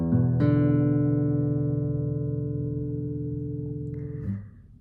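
A single sustained guitar chord from a chord progression, struck once and left to ring with a steady, slow decay for about four seconds before a brief fret squeak and mute at the end.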